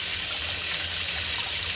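Running tap water pouring over fish being rinsed in a sink, a steady close hissing stream with no break and no talk.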